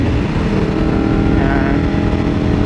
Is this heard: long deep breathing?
no